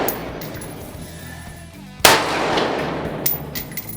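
Rifle shot fired at a target on a range, one sharp loud report near the middle followed by a decaying echo, with fainter earlier reports and later impulsive cracks.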